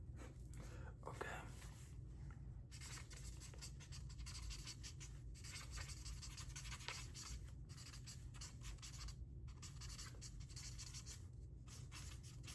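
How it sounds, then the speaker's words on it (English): A pen writes on paper in a close, quiet ASMR setting, giving a steady, continuous scratching with brief pauses between strokes. No one speaks. "Now I'm just gonna write down your results again."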